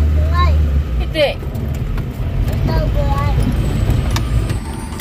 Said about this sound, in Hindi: यहाँ पे ट्रैफिक इतना ज़्यादा रहता है